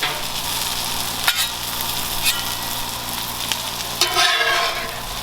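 A breakfast scramble hisses with a steady sizzle on a Blackstone griddle, broken by a few scraping clicks of a spatula scooping it forward, close and continuous.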